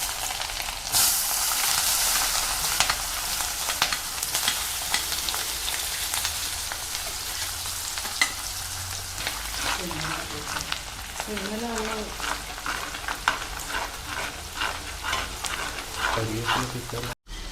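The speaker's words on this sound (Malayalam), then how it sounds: "അപ്പോൾ ഇനി നമുക്ക് ഈ കല്ലുമ്മക്കായി ഫ്രൈ ചെയ്ത് എണ്ണയിലേക്ക് ബാക്കിയുള്ള സാധനങ്ങൾ ചേർക്കാം." Mussels sizzle and crackle steadily in hot oil with ginger, garlic, green chili and curry leaves, a dense continuous frying hiss with occasional stirring clinks and a voice speaking briefly underneath.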